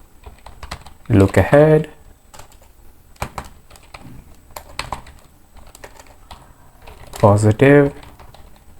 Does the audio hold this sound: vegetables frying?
no